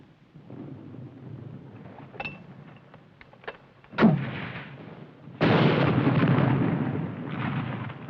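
Gunfire from a battle scene in a 1951 American war film, with sharp isolated shots followed by a loud sustained burst of rapid fire against a rumbling, noisy background.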